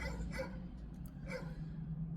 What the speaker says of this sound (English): moving away from this dog that don't stop barking